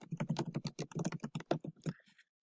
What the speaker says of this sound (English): you want to go ahead and type that in